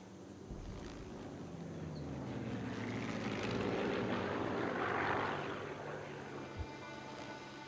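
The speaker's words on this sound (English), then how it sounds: "Wait until the next plane goes past" Propeller airplane in the video game Sniper Elite 3 passing overhead, a steady engine drone that swells to a peak midway and then fades, with a faint thud near the end.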